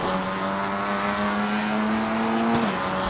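Race car in a racing video game powering out of the final hairpin of a circuit; loud, close engine note holding a steady high pitch, then dipping briefly at a gear change with faint tyre scrub.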